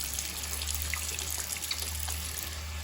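A tap runs steadily as hands are wetted beneath it, a close, even gush of water with faint splashes and no talk.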